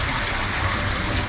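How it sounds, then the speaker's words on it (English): A small waterfall splashes in the seating area of a cafe in Chiang Mai's Old City, a steady, dense rush of falling water that is close and fairly loud, with no break and no talk. "Little area here to sit at with looks like some waterfall here at the bottom"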